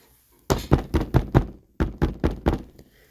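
Knuckles rap on the large front gate of a big tiled-roof house in two close, loud bursts of about five firm knocks each, with a short pause between.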